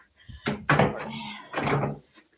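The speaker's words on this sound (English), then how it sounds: "Okay, I just close the door." A door pushed shut indoors, a couple of close thuds and rattling bumps followed by a brief scraping settle, loud and near with no talk.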